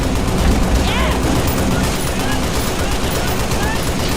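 Sustained gunfire from a Halo battle, dense and continuous at steady loudness, layered under other battle noise with no clear gaps.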